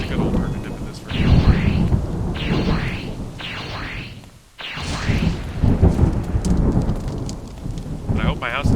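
Minecraft thunderstorm with steady heavy rain hissing throughout, broken by several loud rolling thunder cracks and rumbles, close and booming, with the game's ambience continuing beneath.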